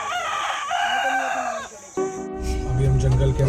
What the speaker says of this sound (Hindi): और बस मुर्गे की इस बांग के साथ हमारा जंगल का सफ़र शुरू होगा